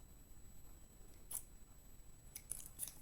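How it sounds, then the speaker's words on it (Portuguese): Scissors snip faintly several times, trimming excess cold porcelain around the base of a fake cake, the small crisp cuts spaced irregularly in a quiet room. "Aqui vocês podem cortar pode ser com uma tesoura mesmo"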